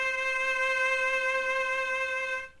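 Violin sounding a sustained C note on the A string in first position, one steady, bright bowed tone lasting over two seconds, close and clean with an abrupt release.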